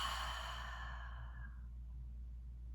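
A slow, soft breath out during breathwork practice, a close airy exhalation fading over about two seconds with a low hum underneath and no talking.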